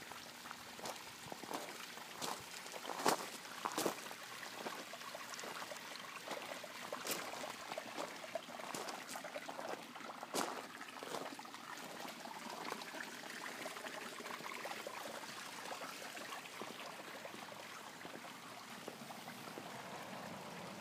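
Water from a small garden waterfall splashes and trickles steadily, a soft continuous flow with occasional louder drips and plops, heard fairly close for the whole stretch without talk.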